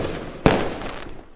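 A single firework bursts with one sharp, loud crack, followed by a short crackling fizz that fades away over about a second.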